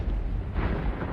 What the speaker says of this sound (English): The air suddenly cracked and split with the ear-shattering sound of a distant explosion